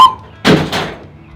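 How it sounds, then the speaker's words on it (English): A toy zombie target knocked over by a shot lands with a single close, hollow thump, followed by a second softer clatter as it settles and a brief rattle dying away. "I knocked over the zombie, but you know why? Because I hit the zombie!"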